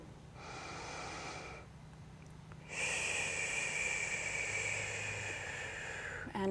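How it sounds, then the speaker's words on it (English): A deep, audible breath is drawn in through the nose during a core-focused yoga exercise, a long, airy, close inhale that strengthens partway through and holds steadily to the end. "Deep breath in here."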